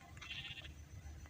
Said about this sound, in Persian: گوسفند سیاه